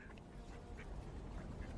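Duck quacks in a video game, a few short nasal calls spaced across a steady low background hum, fairly quiet and with no talking.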